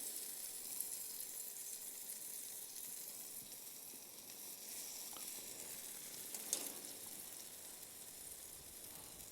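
Pierogies sizzle in butter on a grilling stone, a quiet, steady crackle with faint occasional pops and one brief sharper spatter.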